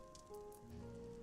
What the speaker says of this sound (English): the transition into the rain effects